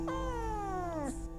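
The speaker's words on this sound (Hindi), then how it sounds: "तो म्याऊं म्याऊं करके बाय कर दो सबको" A pet cat gives one long, close meow that slides downward in pitch, heard alone over a low steady hum.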